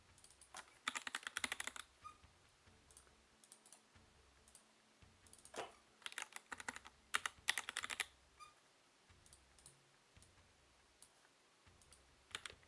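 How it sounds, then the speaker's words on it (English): Two players at a Hellish Quart tournament typing on computer keyboards, with irregular bursts of rapid clicking keystrokes separated by quieter gaps, close and clear over a low background hum. "both of them are using the keyboard"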